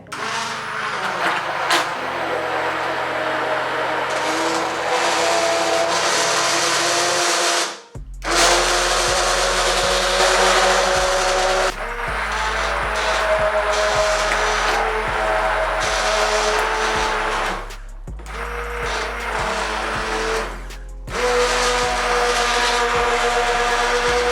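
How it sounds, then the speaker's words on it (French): An immersion blender mixing an organic clarifying, mattifying serum, giving a loud continuous motor whir that shifts in pitch as the blade moves, with two brief pauses and no talk. "Donc je vais plonger mon mixeur comme ça et on va mélanger le tout."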